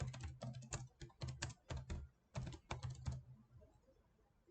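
Close, quiet tapping on a computer keyboard as a graph title is typed in Wolfram Mathematica, coming in quick bursts of keystrokes with short pauses, then fading to room hiss.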